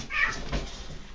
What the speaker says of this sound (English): now the cat's mad because I yelled at it